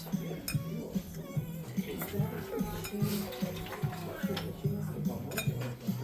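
Flour is scooped into a measuring cup for cat head biscuits in a home kitchen, giving repeated light clinks and scrapes of utensil against dishes in an irregular rhythm, close and fairly quiet beneath voices.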